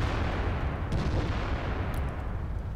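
An E100 heavy tank fires a HEAT round in World of Tanks on a city map, a loud, deep, rumbling cannon boom with a rolling low-end tail that fills the whole moment.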